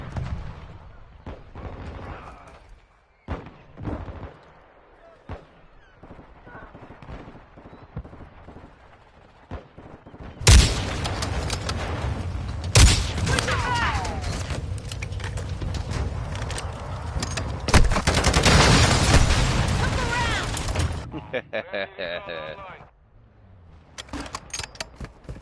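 Intense, dense gunfire and explosions in the video game Modern Warfare 2: scattered shots at first, then a loud sustained barrage of rapid fire and blasts before it tapers into sporadic shots.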